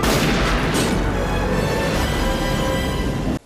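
A burst of gunfire in the action film Under Siege 2: a loud, close boom opens into a long, dense roaring wash that stays heavy before cutting off abruptly near the end.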